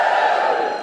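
A live comedy podcast audience gives a brief, loud cheer, dense crowd whooping and shouting with no single voice standing out.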